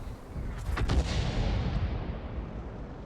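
Gunfire in a video game, a burst of sharp crackling shots early on followed by a sustained rumbling roar that slowly fades, loud and with no talking.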